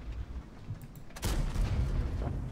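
A tank cannon fires in World of Tanks, one sudden heavy boom followed by a rumbling tail as low engine and battle noise carries on underneath.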